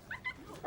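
Small dog yips and whimpers in short, faint, high-pitched bursts, three quick cries spread over a brief moment with no one talking.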